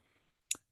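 A single soft computer mouse click on a settings wheel, one brief crisp tick in near silence.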